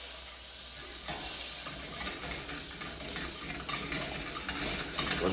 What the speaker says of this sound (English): Okay, butter's going in.